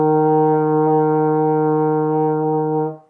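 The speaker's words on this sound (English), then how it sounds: "E flat sounds like this." Euphonium sounding a sustained E flat, one long steady brass note held evenly for roughly three seconds and then released, heard alone at close range.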